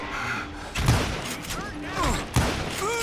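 Gunshots ring out in a shooting fight in the Western game Call of Juarez: Gunslinger, a few sharp bursts with thuds and whizzing ricochets, mixed with a voice talking over the action.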